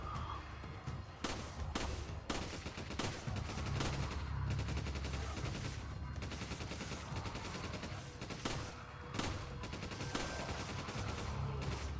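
Repeated gunfire in the video game Resident Evil 5 sounds as scattered, punchy shots over a dense, rumbling game soundscape, with bursts spread across the whole stretch at a fairly low level.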